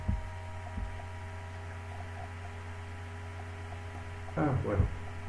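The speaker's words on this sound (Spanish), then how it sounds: "me dicen que hay un pequeño ruido del ventilador y es inevitable" A constant low electrical fan hum drones under a quiet room, steady and close to the microphone, with a brief muffled knock near the end.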